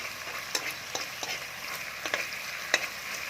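Ingredients for mie goreng ayam being stir-fried in a pan over the fire, giving a steady close sizzle broken by scattered scraping clicks from stirring, with no talking.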